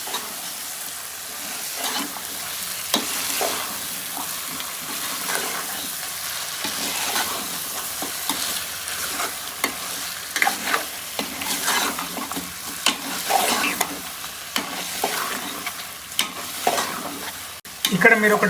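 Chicken pieces stirred in a hot pan for a simple chicken curry, sizzling and frying steadily with repeated scraping and clacking strokes of the spoon, close and continuous with no talk.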